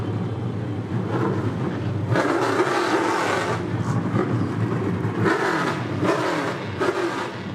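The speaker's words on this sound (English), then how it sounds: "The engines are fired for the Pro Late models here at Ace Speedway." Pro Late Model race cars at Ace Speedway fire up and rev together, a loud, dense roar of several engines surging and swelling in pitch throughout.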